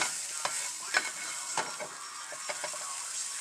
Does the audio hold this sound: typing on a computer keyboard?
no